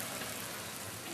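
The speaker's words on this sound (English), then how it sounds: "Okay, it's raining." Rain falls as a dense, even hiss of drops, steady and fairly loud throughout a brief stretch.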